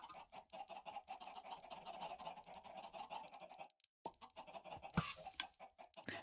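Chicken clucking in the Minecraft video game, steady and fairly soft under a constant busy background of game noise, with a short dropout and a brighter burst near the end.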